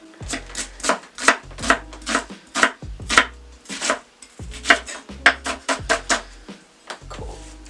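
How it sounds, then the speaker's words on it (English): A dull knife julienning vegetables on a cutting board makes a quick, steady run of sharp chopping knocks in close succession, loud and near, with a brief pause midway. "And we're just going to julienne this"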